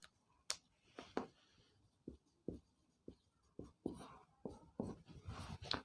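Chalk or marker strokes on a board as the ohm symbol is written, a series of short scratchy swipes separated by brief pauses, close and faint.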